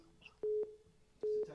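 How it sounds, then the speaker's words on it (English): A telephone rings twice, each one a pair of short steady electronic tones, close and fairly loud, with faint background noise between the rings. "Man, the phone's ringing."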